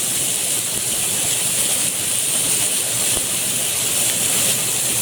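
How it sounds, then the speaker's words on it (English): Bacon sizzles in a frying pan for a breakfast roll, giving a steady, dense, bright hiss with a faint crackle that holds evenly from start to finish. "Throw in some bacon."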